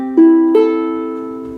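A ukulele plucked to check its tuning: two close, clear notes a moment apart, the second ringing on and slowly fading, with nothing else heard.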